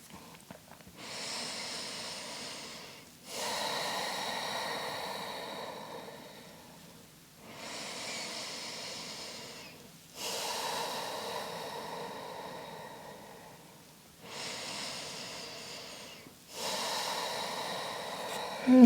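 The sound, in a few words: deep breaths during yoga practice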